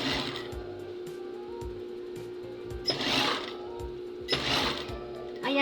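A sewing machine stitching a blouse sleeve during a repair runs with a steady mechanical whir and hum, broken by two louder bursts of fast stitching, with no talking.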